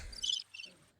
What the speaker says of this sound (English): No, that's the crickets.